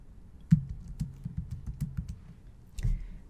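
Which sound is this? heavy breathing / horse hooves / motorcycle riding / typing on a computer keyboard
typing on a computer keyboard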